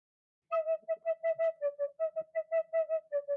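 A tin whistle plays a short bass-line tune as a quick run of clear, evenly spaced notes, close and fairly soft, alone without any talking.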